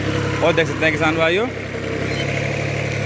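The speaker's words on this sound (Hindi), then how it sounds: "ट्रैक्टर लिया है स्टार्ट और चल दिए हैं अंकल जी मट्टी हटाने के लिए" A Mitsubishi tractor in a sugarcane field runs with a steady, mid-pitched engine drone throughout, while someone talks loudly over it in the first half before the engine carries on alone.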